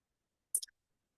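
A computer mouse gives a quick, faint click, a tiny double tick in an otherwise silent room.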